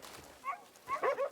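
A dog in the video game Crimson Desert gives a pair of short, soft barks or yips inside a stable, the second bark louder and more drawn out.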